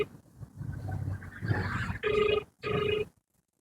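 A phone call placed on speakerphone rings out twice in steady electronic bursts after a stretch of muffled background noise and low voices, with short gaps between rings and the line ending abruptly.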